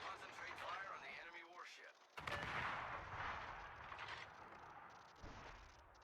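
Heavy naval guns boom in World of Warships, one loud blast followed by rumbling echoes and further firing, with someone speaking over the gameplay.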